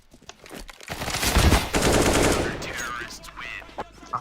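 Rapid automatic fire from a P90 in a video game, a dense, continuous burst of shots lasting a few seconds that swells loud and then tapers off, with brief game sounds around it.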